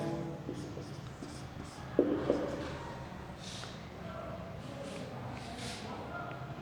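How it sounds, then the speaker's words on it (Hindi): Notes being written by hand on a board during a lesson: a steady, close scratching of strokes with a couple of sharper taps, continuing without pause. "देखिए एक पॉइंट लिखते हैं हम यहाँ पर नोट करके"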